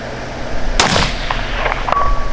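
A single sharp rifle shot cracks loudly outdoors during a coyote hunt, followed by a short rolling echo and faint outdoor background noise.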